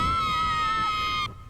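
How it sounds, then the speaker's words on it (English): Characters in the video game Broken Age scream in terror as they fall, a sustained high wailing cry held steadily for over a second before it cuts off abruptly. "Screams of terror."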